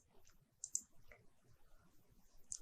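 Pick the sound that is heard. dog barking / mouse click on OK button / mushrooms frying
mouse click on OK button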